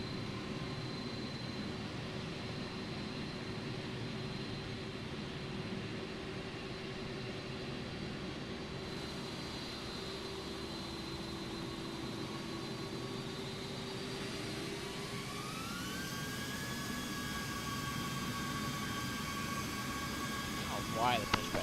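Airliner jet engines from Microsoft Flight Simulator 2024 hum steadily while a Delta Airlines jet taxis, the whine rising in pitch partway through as thrust increases, continuous and fairly loud.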